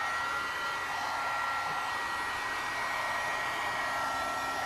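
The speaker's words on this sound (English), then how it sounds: "Heat gun." A heat gun blows steadily while drying a mixed media canvas, a constant airy whooshing roar that stays even and unbroken throughout, close and alone.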